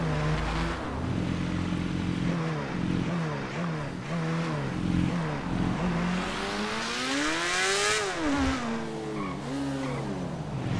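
A stolen car is driven in GTA V, its engine rising and falling in pitch as it revs through gear changes and swerves, with a tire squeal. The loud, continuous drone has no talk over it.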